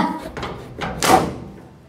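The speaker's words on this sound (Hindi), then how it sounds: "दरवाज़ा खोल दिया मैंने, दरवाज़ा खोल दिया" A main street gate door in a lane swings open with a few knocks and creaks, then one louder scrape or clunk near the end, close by and with no one talking.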